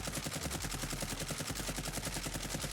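Rapid automatic assault rifle fire in Warzone, from a Kilo or AMAX, in one sustained burst of evenly spaced loud shots spraying a whole magazine without pause, close and dominant with no voices.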